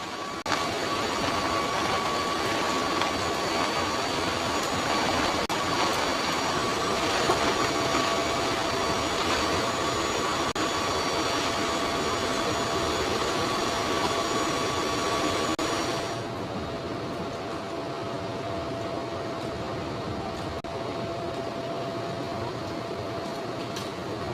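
Steady, loud roar of a military transport aircraft's engines inside the cabin during a night paratrooper jump, a broad unbroken drone with a thin whine, continuous throughout and dropping slightly in brightness partway through.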